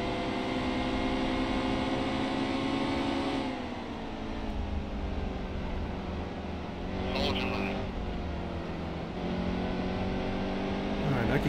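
A NASCAR Cup race car in NASCAR Heat 2 drones with a steady, loud engine roar at Phoenix, its pitch climbing as it accelerates, dipping briefly around a shift and climbing again.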